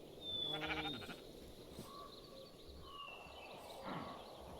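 Sheep in a video game bleat twice, a wavering call near the start and a shorter one near the end, over a steady low game backdrop.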